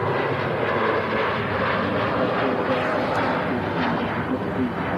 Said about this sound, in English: the Virgin Atlantic A350. Wow, what's going on with this jet too? That was an early rotation.